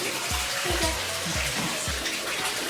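Bath water splashing and sloshing steadily while a small dog named Chi-Chi is washed in a tub, with broad continuous wash and a few low thumps from movement in the water; faint voices murmur underneath.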